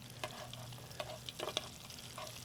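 Squid pieces for karaage fry in hot oil at about 170 degrees, a steady crackling sizzle with sharper pops and spits scattered through it, close and moderately loud with no talking.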